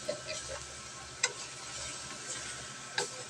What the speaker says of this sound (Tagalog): Maingay yung isang sandok na yun